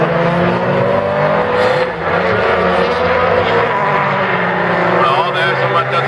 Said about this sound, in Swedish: jag tror att han har någon växel borta, Bläcker, det låter nästan så.